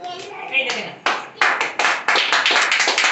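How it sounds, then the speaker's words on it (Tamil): Hands clap in a quick run of sharp, separate claps at a Christmas family gathering, growing more frequent toward the end, with speech heard at the start. "கை தட்டுங்க."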